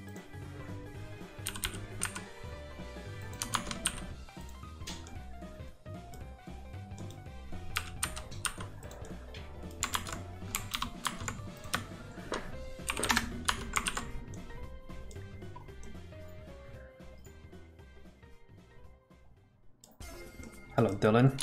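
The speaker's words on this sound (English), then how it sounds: "I am very glad you enjoy my keyboard ASMR" Keyboard typing runs throughout as a busy stream of clicks and key clatter, sometimes in bursts, with a steady backdrop and moments of talk mixed in.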